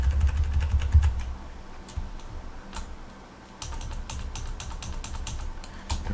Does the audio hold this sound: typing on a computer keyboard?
yes